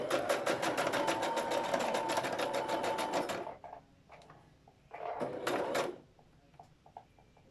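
A sewing machine runs a fast, steady stitching burst through fabric for about three seconds, stops, and then runs again in a second short burst, with small handling clicks in the pauses.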